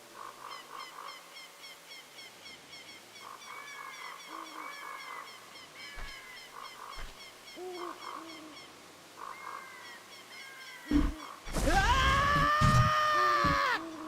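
A Deku Sprout plant in Ocarina of Time lets out a loud, wavering shriek near the end, after a stretch of soft chirping, honking game sounds over a quiet background.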